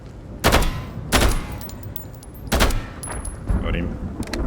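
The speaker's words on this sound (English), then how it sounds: "I don't know if I can shoot him through that." Several loud, sharp gunshots ring out in the video game Road to Vostok, fired in separate bursts with short echoing tails and quieter thuds between them.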